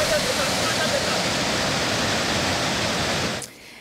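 The Karfigela waterfalls near Banfora give off a steady, loud, dense roar of falling water that fills the scene, then drops away abruptly just before the end.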